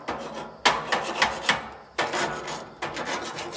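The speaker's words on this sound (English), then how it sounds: "And we're gonna scrape it. Clean it off." A metal scraper rasps across a hot grill grate in a series of loud, rough strokes, each a burst of harsh scraping with brief pauses between, close and alone.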